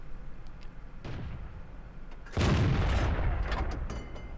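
A tank gun fires in World of Tanks, a loud broadband boom about halfway through that rings out, with a duller thud of battle noise earlier and steady game rumble throughout.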